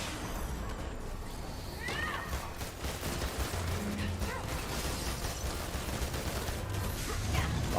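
Busy gunfire in Marvel's Avengers crackles in rapid bursts amid mechanical clanks and other game effects, a dense, steady layer of combat noise at moderate loudness.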